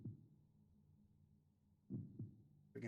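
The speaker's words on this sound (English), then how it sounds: "Freaking heartbeat." A slow, low thudding heartbeat from the video game Final Fantasy VIII, with two soft beats spaced far apart over a quiet hum and a brighter sound cutting in at the end.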